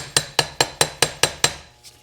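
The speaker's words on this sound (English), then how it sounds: "So I'm gonna tap, this is brass. I'm gonna tap that in there" A brass drift taps a gear into place on the top shaft of a John Deere 3010 tractor. Seven sharp, evenly spaced metallic taps ring close and loud, followed by a fainter final touch.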